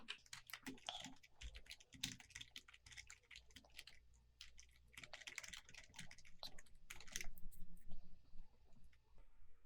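Fingers type an account login on a computer keyboard in quick irregular bursts of close, soft key clicks with short pauses between runs, fairly quiet with no voices over it.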